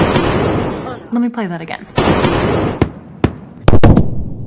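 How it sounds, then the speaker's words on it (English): A supersonic aircraft's sonic boom arrives as sharp double bangs, replayed in quick succession near the end after a stretch of speech over a noisy background. "supersonic aircraft make a sonic boom, which we as human beings do hear as a double bang"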